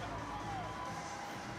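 A stadium crowd roars continuously at a Fiji rugby sevens bronze-medal match against Australia, the loud, dense cheering filling the whole moment after a try.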